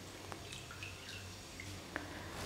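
Water dripping as a cotton makeup pad soaks in hot water: a few small, sparse drips and trickles, close and fairly quiet, with a faint low hum underneath and no talking.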